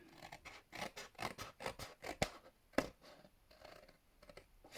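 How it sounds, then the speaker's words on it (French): Scissors cutting along a fold in paper for a small box, a close, steady series of crisp snips and rasping slides with a couple of sharper clacks and no voices. "je viens couper tout le long de mon pli jusqu'au deuxième pli"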